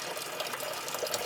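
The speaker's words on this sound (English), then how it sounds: "this is about the flow we have right now coming out of the heater core" Water rushes steadily and continuously out of a small car heater core during a vinegar cleaning flush, a soft, even hiss of flowing liquid with no voices.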